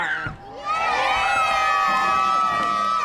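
A crowd cheers and whoops at a Relay For Life closing ceremony, a loud sustained roar of shouting voices rising after a brief dip and holding strong to the end.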